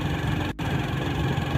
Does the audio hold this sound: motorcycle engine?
yes